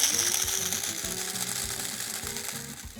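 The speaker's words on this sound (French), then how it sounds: "On va moudre le café." A hand coffee grinder cranks through roasted beans with a close, rhythmic ratcheting and gear clatter, repeating in steady turns throughout.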